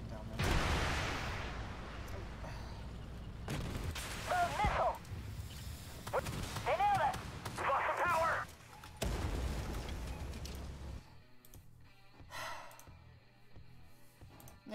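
Tank missile launches and cannon fire in the armored combat video game Armored Warfare, sharp booming blasts recurring through the clip alongside engine rumble and game effects, with someone talking over much of it.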